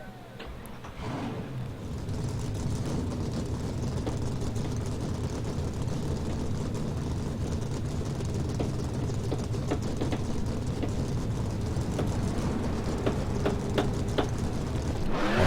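A field of race car engines rumbling to life in the NR2003 NASCAR racing game at Talladega, a steady loud low roar settling in after a short lead-in and holding throughout.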